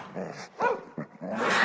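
A dog growls and barks in short, fierce bursts while biting hard during an animal fight in a children's story, close and loud over a brief moment of commotion.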